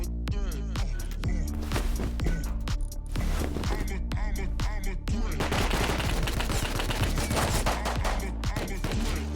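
Rapid, repeated gunshots in the survival video game Rust, crisp cracks firing in quick bursts and volleys throughout, loud and close, with a person speaking occasionally between shots.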